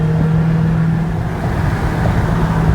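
A Dodge Charger Hellcat accelerating hard, heard from inside as a loud, steady engine drone with a strong low tone that holds throughout without letting up.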